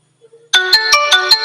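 Find-my-phone ringtone set off from a Xiaomi Mi Watch: after a few faint soft beeps, a loud close electronic ring pulses in five quick, evenly spaced bursts over a steady tone, with no talking.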